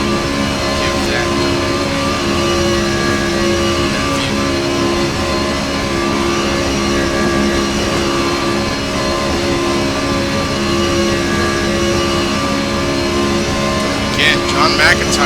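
Nissan race car engine holding a steady high drone down a long straight on the Nordschleife in a Gran Turismo racing game, continuous and loud, with commentary speech over it throughout.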